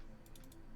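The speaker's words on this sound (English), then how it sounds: "I'm hitting tab, by the way, when I'm done typing" Tab key pressed on a computer keyboard while configuring a Cisco router, heard as a few quick, soft clicks close by over a steady low hum.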